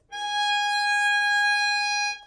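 A steady bowed violin G sharp sustained for a couple of seconds with bright harmonics, then cut off.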